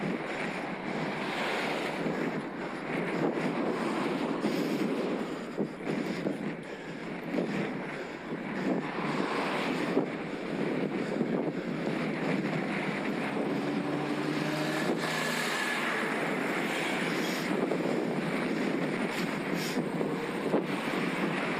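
Strong front-left headwind buffeting the microphone while riding a Scott Addict RC eride e-bike with a Mahle X20 motor in the Peak District, a loud continuous roaring rush with gusty swells throughout.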